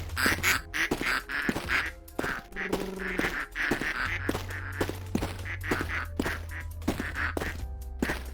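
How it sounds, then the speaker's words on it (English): Video game ducks quack repeatedly in quick bursts while being shoveled along in a cleanup game. The calls are close and loud, with thunks and scrapes between them and no talking. "shovel my ducks to the hole"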